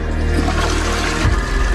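Indoor toilet flushing, a loud close rushing of water that swirls continuously and then shifts as the bowl drains.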